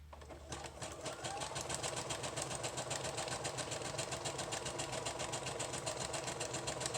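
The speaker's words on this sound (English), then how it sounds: "I'm sewing kind of slowly because if I sew fast, it shakes the table" A sewing machine stitches lace onto the page edges of a handmade journal at a slow, even pace, its rapid regular needle clatter steady and close, with a faint hum underneath.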